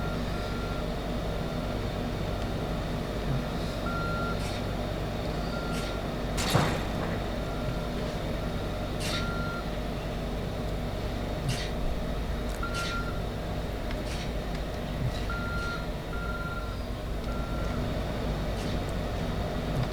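A Route 0 bus idles and drives with a constant low engine rumble, a repeating warning beep sounding at intervals and occasional clanks.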